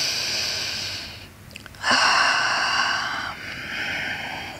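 Slow, audible breaths drawn in and out during a yoga session, a long exhale followed by a deeper inhale, close and soft against a hushed background.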